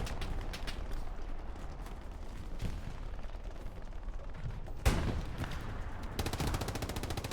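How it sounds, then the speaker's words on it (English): Sustained battlefield gunfire from Hell Let Loose with a sharp, heavy blast from a precision artillery strike near the middle, followed by more rapid firing. "Precision strike."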